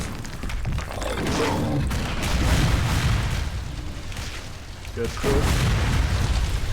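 Fire attack explosions in the game Legend of Grimrock 2, low rumbling booms and thuds rolling through the scene while a voice speaks briefly over them.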